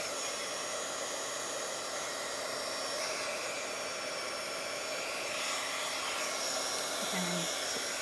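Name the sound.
hair dryer drying a glitter napkin journal page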